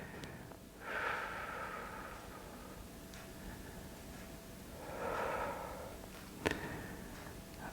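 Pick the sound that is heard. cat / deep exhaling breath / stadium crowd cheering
deep exhaling breath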